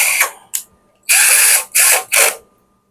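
A threaded screw is loosened with a Lotus hand tool on an APC UPS backup power unit, giving a short ratcheting burst, a quick click, then three longer close ratchet runs with brief pauses between them.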